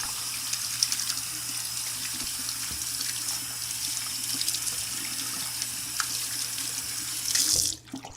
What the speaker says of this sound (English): Here's me washing, getting some soap.